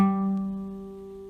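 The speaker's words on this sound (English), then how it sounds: "So first finger's on the 10th fret of the 5th string." A single guitar note fretted at the 10th fret of the 5th string, plucked once and ringing out alone, close and clear, with its sustain slowly fading.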